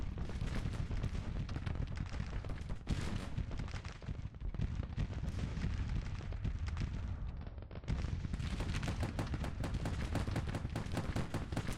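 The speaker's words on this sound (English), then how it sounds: "Oh, and they brought Gatling guns." Gatling guns firing in the Civil War strategy game Grand Tactician, dense rapid bursts of crackling gunfire with artillery-like booms, continuous and loud with brief lulls, no talk.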